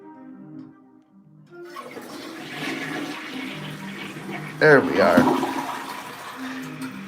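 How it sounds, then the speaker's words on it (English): A toilet flushes with a loud rushing, gurgling surge of water that swells midway and drains down, while someone talks casually over it before and after. "And let's fucking flush the toilet together."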